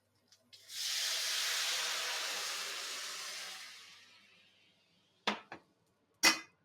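Steam hisses hard off a hot pan for about three seconds after meat such as burgers and lamb chops is cooked, then fades away, followed by a few short sharp scrapes across the pan bottom.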